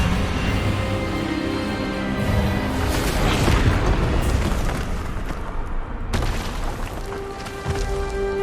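A spell blast in a Hogwarts Legacy cutscene, heard as a dense, loud booming burst with crackling, rumbling energy throughout, with a sharp break and renewed surge near the end, under a sustained cinematic music bed.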